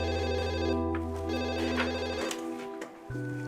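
Telephone ringing with a steady electronic tone that continues for a couple of seconds, then cuts out and gives way to a different short tone, heard clearly and with no voices.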